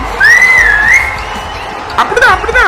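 A whistle blown by someone walking at night sounds loud and close with a shrill, wavering tone, followed by a few shorter bursts, over faint background crowd noise.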